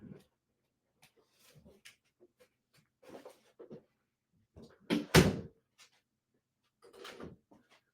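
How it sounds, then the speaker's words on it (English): An indoor door closes with a single sharp thump amid otherwise quiet, scattered rustling and small handling noises in a home. "Let me close the door"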